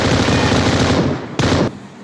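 Rapid automatic gunfire from a teammate's body shots in a shooter video game rattles loud and dense, a sustained burst with a brief break before a final short volley.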